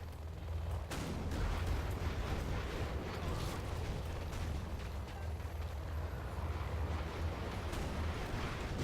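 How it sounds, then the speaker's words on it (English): Missile blasts and battle noise from the real-time strategy game Command & Conquer: Generals, with dense overlapping rumbling explosions and crackling fire, steady and loud throughout. "they're just firing one missile and boom"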